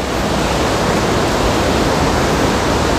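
Loud, steady roar of rushing water at Wawa Dam after Typhoon Ulysses, a broad unbroken wash of sound with no voices.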